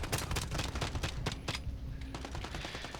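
Rapid automatic gunfire rattles in dense bursts, then thins to a few isolated shots before stopping. The shooting comes from an online match of the video game Modern Warfare 2, with no voices over it.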